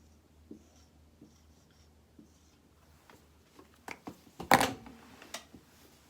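Marker or chalk on a classroom board gives faint, sparse scratches at first, then a busier burst of stroke squeaks and taps as an equation is written, close by with no talk.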